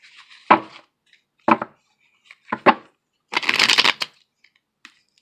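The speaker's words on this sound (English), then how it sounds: "and then I'll cut the deck" A deck of tarot cards being cut and shuffled nearby: several separate crisp riffling bursts with gaps between, ending in a longer rapid flutter.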